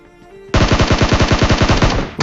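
Rapid automatic gunfire in PUBG Mobile during a ranked match, a sustained burst of about fifteen loud, evenly spaced shots that starts abruptly and runs alone for nearly two seconds.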